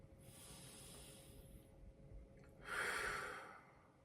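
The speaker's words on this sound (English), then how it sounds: "Let's take a couple deep breaths together." Deep breathing at a quiet distance, a soft airy inhale followed by a louder, breathy exhale like a sigh, with low room noise throughout.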